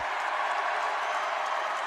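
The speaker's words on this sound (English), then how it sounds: "The Duke commit getting cheered on by the home faithful" A home crowd at a high school boys basketball game, Paul VI versus DeMatha, cheering and applauding a Duke commit receiving his McDonald's All-American jersey; a steady, dense roar of cheers and clapping fills the gym throughout.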